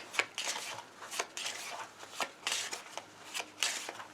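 A deck of playing cards is handled and shuffled close by, with repeated crisp riffles and flicks in a quick, uneven rhythm and no talking.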